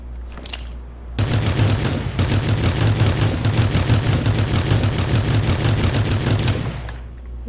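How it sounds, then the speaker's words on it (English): Sustained automatic gunfire in the mobile battle royale game Rules of Survival, a loud rapid continuous burst of shots lasting several seconds after a couple of short opening shots. "I just have to just shoot at him, I guess"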